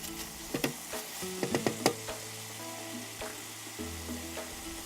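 Garam masala and spices are mixed into chicken biryani in an electric rice cooker, a spoon clicking and scraping in quick taps over a low sizzle and a steady hum, close and quiet.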